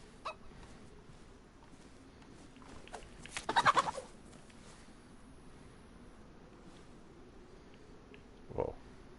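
Chicken in the survival game DayZ clucks in a quick rattling burst, then gives a single shorter call later, both faint against a quiet outdoor background.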